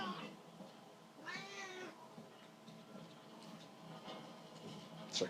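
A house cat meows indoors: one clear, drawn-out meow rises close by over a steady low room murmur, with faint shuffling around it.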